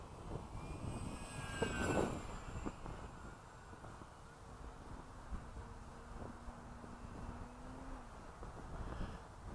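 A radio-controlled Max Thrust Riot model plane, fitted with a 3300 4S battery, drones steadily overhead for nearly ten seconds, its motor whine steady with wind buffeting the microphone, no voices.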